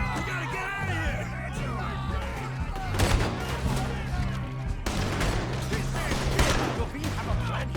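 Gunfire in the Western video game Red Dead Redemption 2: scattered sharp shots crack at irregular intervals through a dense, continuous mix of orchestral score and shouting voices, with a few louder bursts standing out midway.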